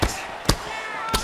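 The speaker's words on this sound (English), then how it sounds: "Another ground and pound strike lands." Two sharp thudding strikes from ground and pound in the EA Sports UFC 6 video game land about half a second apart, punchy and close over a faint background of arena ambience.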